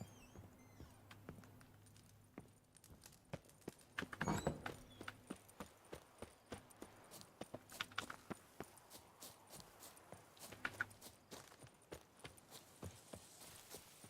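A horse in The Witcher 3 Hearts of Stone moves at a steady pace, its hooves making a regular, fairly faint clip-clop that runs throughout with light jingling.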